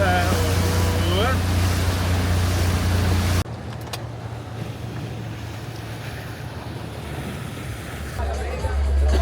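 A boat at sea off Corfu, with steady wind buffeting the microphone and a continuous rushing of water and hull noise throughout, loud and close, with no talk.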